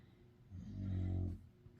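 Harley, a pet dog, gives one low, close snore or grunt that swells and fades in the middle of an otherwise quiet room, with a few faint breaths after it.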